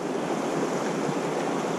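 Truckee River in Nevada rushing along in a cross current, heard from a spot high above the water: a steady, dense wash of flowing water with no pauses, close and fairly loud throughout.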